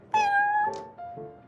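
A cat named Prince in the Genshin Impact video game gives a clear drawn-out meow followed by a shorter, softer second meow, with no other sound around it.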